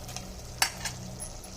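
Cashews are stirred into pumpkin halwa simmering in ghee on a stove, giving a soft steady sizzle with a spoon scraping and a brief clink partway through.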